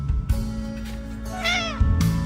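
A cat gives a single clear, drawn-out meow close by, rising then falling, set against a low steady hum with a few bumps before and after.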